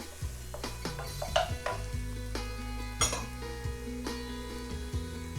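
Bell pepper stir-frying in a pan for a mixed seafood rice bowl cooked with little oil, a steady sizzle broken by repeated scrapes and clinks of a utensil against the pan, close and moderately loud.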